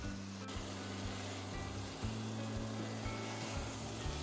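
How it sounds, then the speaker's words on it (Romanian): Chicken pieces fry in a pan for curry, giving a steady, close sizzle with soft stirring scrapes throughout. "Adăugăm și bucățile de pui și le prăjim pentru câteva minute până încep să se rumenească."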